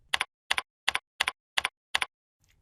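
A computer keyboard is tapped six times at an even, unhurried pace, each key press a crisp, close click followed by short silence.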